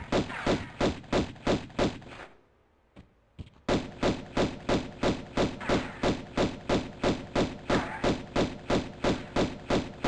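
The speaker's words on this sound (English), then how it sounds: "I guess I need to shoot him a bit first." Pistol fire in Tomb Raider 1, a rapid steady stream of loud identical shots repeating about twice a second, broken by a brief quiet gap with a couple of faint clicks before the volley resumes.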